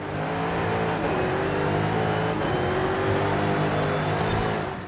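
Noble M400 sports car engine in Forza Horizon 5: a loud, sustained engine roar holding a steady high pitch, close and continuous with no talk.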